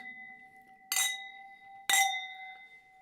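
Glasses clinking in a toast, two bright separate clinks about a second apart, each leaving a clear ringing tone that lingers and fades.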